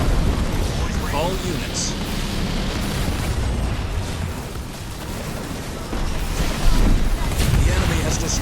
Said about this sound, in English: Artillery deploying